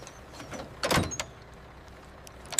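A truck door swung and sealed shut, one short sliding thud with a brief rattle, close and fairly quiet against a soft background hum.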